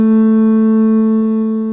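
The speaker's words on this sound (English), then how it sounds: "I'm actually going to play this on piano for you" A single piano note A rings out loud and clear, held for nearly two seconds with a rich steady tone that fades only slightly, alone with no voices.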